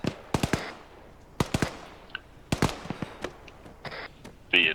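Incoming enemy gunfire in the ArmA 3 military shooter: scattered sharp shots and short bursts cracking at irregular intervals, some close and loud, others more distant, with no talk.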